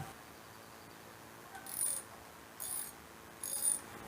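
A socket ratchet on an extension loosening 10 mm bolts on a Honda CGL 125 motorcycle fork, three short bursts of quick clicking separated by brief pauses, close and fairly quiet.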